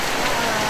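Steady heavy rain drumming on surfaces nearby, a dense continuous patter with no pauses, on a rural road among farm fields.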